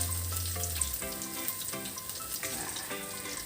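Flour-coated chicken frying in a pan, with a steady, even sizzle running throughout at close range and some faint clatter over it.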